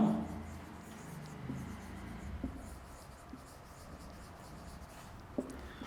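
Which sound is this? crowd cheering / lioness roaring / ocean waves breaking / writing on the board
writing on the board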